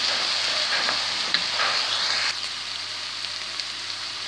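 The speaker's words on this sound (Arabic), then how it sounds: "هاد الفلفله يطيحوا مزيان، لانها الفلفله هذه الفلفله الحمراء ولا الصفراء كتاخذ الطياب شويه" Red and yellow bell peppers frying with onion in a pan for stuffed potatoes with kofta, a steady close sizzle that drops a little quieter partway through, with no talking.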